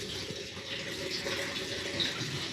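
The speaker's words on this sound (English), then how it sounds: "I'm going to pour the hot water, the boiled water on it" Freshly boiled water poured steadily into a teapot for Moroccan mint tea, a continuous close splashing and gurgling stream without pause.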